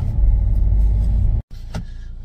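A car idles with a low rumble, then after a brief break pulls away and drives off on a steady engine note, close and fairly loud.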